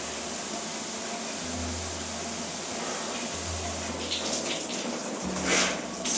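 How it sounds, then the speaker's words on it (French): Cold shower water runs steadily in a broadband hiss, close and continuous, with a low hum cutting in and out and brief louder splashes near the end; no talking. "Douche froide, by the way, bien évidemment"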